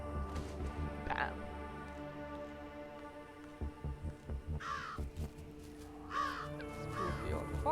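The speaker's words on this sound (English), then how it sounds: "The birds are so loud." Crows caw loudly, several harsh bursts over a low throbbing hum and music in a spooky forest scene from the game Jenny LeClue.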